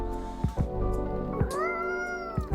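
A cat in the video game Coffee Talk 2 meows three times in close succession, each call bright and drawn out, with the last one rising and sustained over faint game background music.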